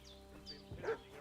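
A dog barking in the medieval village of Kingdom Come: Deliverance II, a single muffled bark-yip heard at a distance under a faint game ambience.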